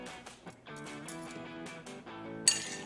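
Ice cubes clink and rattle into a cocktail glass in a quick run of bright, close taps, ending with a sharper knock.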